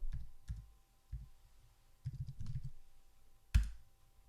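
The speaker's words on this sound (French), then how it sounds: "Je vais taper son nom." Soft, sparse taps on a computer keyboard as a name is typed into an app, a few light clicks in short bursts, quiet and close, ending with one sharper tap.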